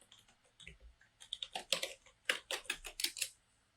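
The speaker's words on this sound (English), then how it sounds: "I will go to the URL and type in the website address" Fingers type on a computer keyboard, entering a website address: a quiet, uneven run of sharp clicks with short pauses, then a denser burst of keystrokes.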